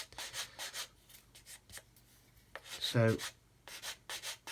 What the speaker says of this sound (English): just sand that away